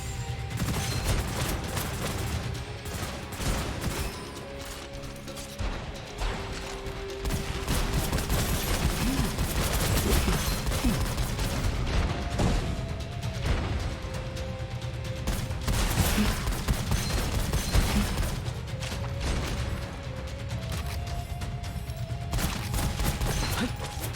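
Rapid, dense gunfire from the shooter game Gunfire Reborn rattles on almost without pause, loud and busy, mixed with mechanical clanks and reload clicks over a droning game soundtrack, no talking.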